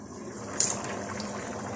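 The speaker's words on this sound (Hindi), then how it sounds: "पानी में उबाल आ चुका है।" Mutton stock (yakhni) for Rampuri mutton biryani boiling in a covered pot, a steady watery bubbling and seething with a brief sharper splash or hiss near the start, close and moderately quiet, with no talking.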